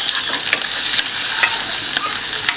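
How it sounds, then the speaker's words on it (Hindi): Onions browning in a frying pan, sizzling steadily and loudly throughout with occasional scraping stirs of a utensil, no voices. "इसे भी हिला जुला लेते हैं थोड़ा सा। ठीक है ना, प्याज से प्याज हमारा ब्राउन हो रहा है।"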